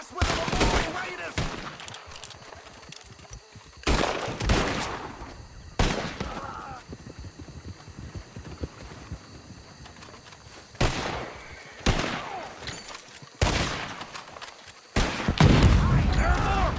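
Bursts of gunfire erupt in the video game Red Dead Redemption 2, loud volleys spaced every few seconds over a quieter background of horses, with shouting voices between the shots.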